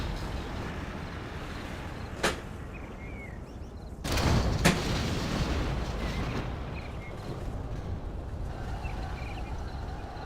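Scud launchers fire in a real-time strategy video game match, producing a couple of sharp distant blasts followed by a burst of rumbling explosions over a constant low battlefield roar.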